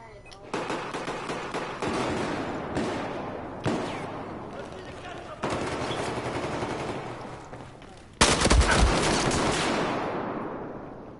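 Rapid automatic AN-94 rifle fire in Battlefield 4 crackles in long sustained bursts separated by short gaps, loud and close, the final burst hitting hardest.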